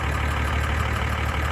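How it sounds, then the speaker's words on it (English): A David Brown tractor engine idles close by with a steady, rough, low rumble and a faint knocking pulse, running alone without voices. "That's a David Brown engine."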